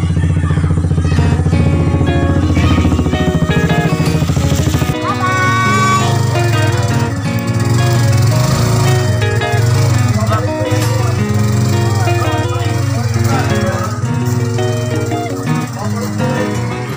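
A boat motor runs steadily and loudly at close range with a constant droning pitch, while people talk over it throughout.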